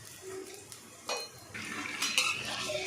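Washed chicken goes into a pan for a creamy restaurant-style chicken gravy, with a few sharp utensil clanks against metal followed by soft stirring and faint sizzle, close by and without voices.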